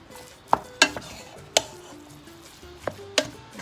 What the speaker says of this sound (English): But for right now, I'm gonna mix it up.